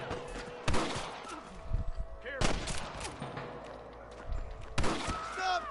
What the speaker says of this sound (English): Stop shooting at me!